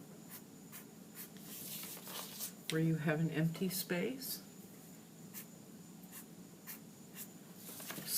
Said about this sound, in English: We can just draw them in pen.